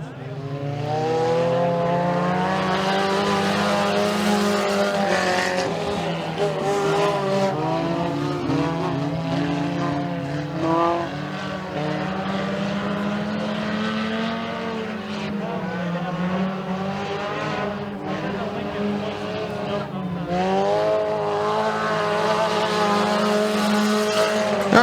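Race cars lap a dirt oval in a heat race at Freedom Motorsports Park, engines droning loud and steady as they pass, pitch rising and falling through corners, with voices faintly underneath.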